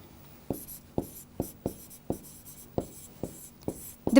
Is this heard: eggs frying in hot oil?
no